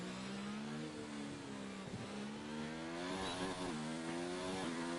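A Formula 1 car engine in the racing game F1 2019 holds a steady high drone through Monaco, with pitch dips and climbs as it shifts and revs, continuous and fairly faint.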